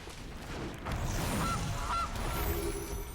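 A honking goose-like bird call plays twice as a card is cast in the MTG Arena digital card game, two short clear honks over a steady game-music bed, with no talking.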